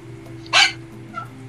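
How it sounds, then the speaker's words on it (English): One short, sharp dog bark rings out nearby over a low steady hum, followed by a faint yip, with no talking. "you gotta calm your dog down, bro"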